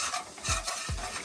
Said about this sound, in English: Then I'm gonna sprinkle some of the curry to let the curry burn